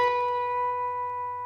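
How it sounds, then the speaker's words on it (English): An electric guitar sustains a clear note bent on the B string at the 10th fret, held steady and ringing cleanly with a faint hum underneath, then a fresh pick attack right at the end. "I'm going to bend the 10th fret until it sounds like the 12th fret."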